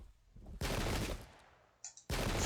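Musket volleys crash in a Pike and Shot battle game, two dense roaring bursts of massed gunfire with a brief lull and scattered cracks between them.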